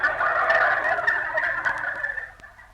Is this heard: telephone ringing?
no